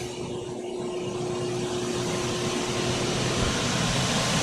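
A Kundig Brilliant wide belt sander runs up, a loud broadband mechanical roar with a steady hum that builds slightly and holds throughout.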